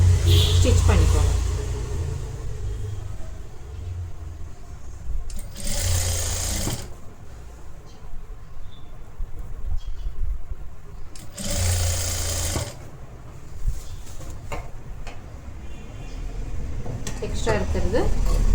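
A sewing machine stitches a blouse collar in steady close runs, stopping and restarting between bursts, with a voice talking over parts of it.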